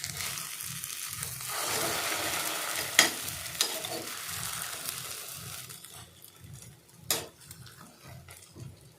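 An egg omelette mixed with thuvaiyal sizzles and fries steadily in a pan, with soft stirring and scraping as it is flipped, and a couple of sharp utensil taps near the end.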